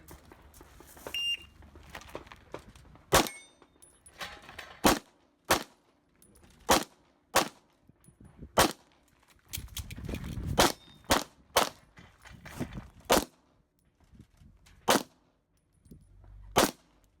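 IPSC pistol shots fired at steel and paper targets during a match stage, about a dozen sharp loud cracks in an uneven rhythm, with a few faint metallic rings and a quieter pause in the middle.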